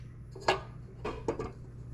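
Cooked pasta is stirred in a pot, giving a few soft scrapes and clinks of a utensil against the metal in quick, short bursts, close and fairly quiet against a low steady hum.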